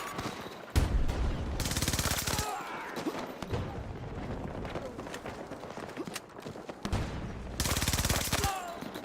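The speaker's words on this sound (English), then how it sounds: "That's a shotgun." Bursts of loud gunfire crackle in rapid volleys from a Battlefield 6 match, two heavy clusters separated by quieter battle noise, with a shotgun among the weapons and players talking over it.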